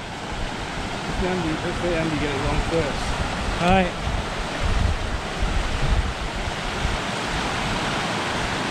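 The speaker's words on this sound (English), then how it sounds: "River crossing." Steady rushing water at a river crossing on a long-distance coast-to-coast ride, loud and continuous with wind buffeting the microphone, while someone talks briefly over it.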